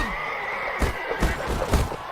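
In Mount and Blade: Warband, a horse lets out a loud, shaky whinny during a lance and shield tournament, while thudding hoofbeats pound underneath at a steady gallop and a high tone hums throughout.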